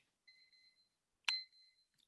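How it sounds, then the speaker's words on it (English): A timer goes off with thin electronic beeps, a steady high tone followed by a sharper, louder chirp and a faint trailing blip, alone in otherwise silent surroundings. "Is that our timer? That's our timer."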